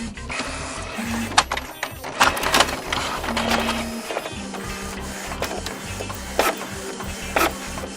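An office printer prints a test page, running as a steady mechanical whir with rhythmic feed clatter and several sharp clicks and thumps, loud and close, with no talking.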